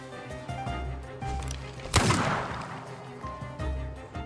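Gunfire in The Thaumaturge video game, one sharp loud shot ringing out midway over a busy game soundtrack with low rumbling tones.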